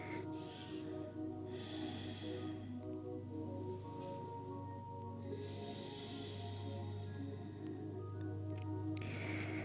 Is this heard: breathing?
yes